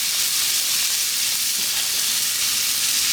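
Ribeye steak searing in hot oil on a shovel, a steady close sizzle and hiss running unbroken throughout.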